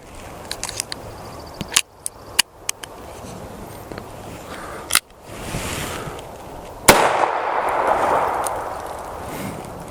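A .38 Special revolver firing a shot shell round at a car hood outdoors: sharp isolated cracks scattered across the span, one louder report near the end followed by a lingering wash of noise, with faint background ambience.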